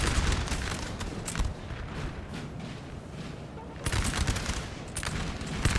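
Massed musket volleys from infantry units in the Napoleon Total War video game, a dense, continuous crackle of overlapping shots with heavier bursts at the start and again near the end, sustained and loud throughout.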